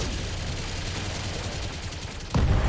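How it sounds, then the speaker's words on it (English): Mech weapons and machine guns firing together in BattleTech, a continuous dense rattle of rapid fire with a heavy, louder impact burst near the end. "Fire everything you got, including the machine guns."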